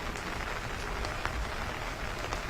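Steady rain falls in Himachal Pradesh, a dense, even patter on surfaces with occasional sharper drops standing out, continuous and moderately loud with no voices.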